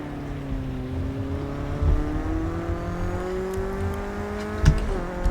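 A racing car's engine drones steadily in Project Cars 2 on a wet track, loud and close, holding a high revving pitch that climbs gradually before a brief shift and dip.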